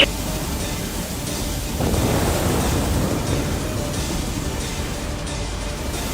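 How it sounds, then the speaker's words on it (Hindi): Rough stormy sea at a merchant sailing ship, a steady broad roar of wind and crashing waves that swells louder partway through; no distinct thunderclap stands out. "तूफान आया है, तूफान!"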